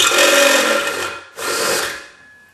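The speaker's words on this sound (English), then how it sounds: "I just wanted to show you how easy these step drills go through this" A step drill bores 5/8 inch holes through a tin can in two short, loud bursts of harsh metallic grinding whine separated by a brief pause.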